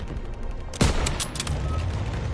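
Gunfire in Call of Duty: WWII, with a sharp, close rifle crack followed by a burst of rapid shots and continuing battle rumble, loud against a busy background.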